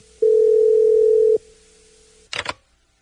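A telephone tone sounds while a call connects: one long steady beep lasting about a second, then a pause and a short burst of electronic clicks, loud and close.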